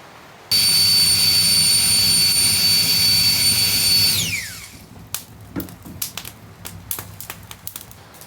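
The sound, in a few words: Flextail electric air pump blowing on campfire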